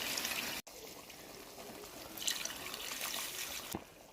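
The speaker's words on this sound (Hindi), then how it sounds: "अब हम इसमें 2 गिलास पानी ऐड करेंगे।" Two glasses of water poured into a cooking pot of potatoes and chicken, a steady close splashing rush that runs for a few seconds, briefly cut off near the start, then continues.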